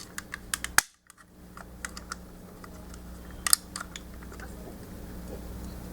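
Plastic parts of a Transformers Revenge of the Fallen Devastator toy being folded and clicked into place, giving a few sharp, close clicks and snaps spread over a quiet background hum.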